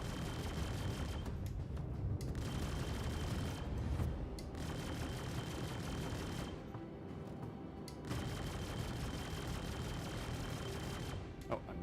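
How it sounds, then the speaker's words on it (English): Weapon fire from the Aegis Prowler ship in the space game Star Citizen, a near-continuous rattling barrage of shots with brief lulls, loud and dense throughout. "Oh, I missed all those shots."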